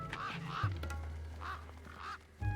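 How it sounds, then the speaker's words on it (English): Birds in the video game Beyond a Steel Sky give four nasal, duck-like quacks in two pairs, clear and close over a low steady game hum. "Look at these birds following me."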